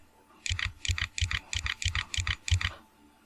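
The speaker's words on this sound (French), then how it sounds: "quand je clique sur la touche supprime" A computer keyboard's delete key pressed repeatedly, giving about seven close, crisp double clicks at a steady rhythm with nothing else heard.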